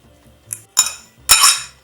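Black beans mashed in a bowl with metal cutlery, giving a few separate clinking, scraping strokes close by, the last two louder and longer, with no talking.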